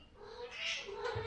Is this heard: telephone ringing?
no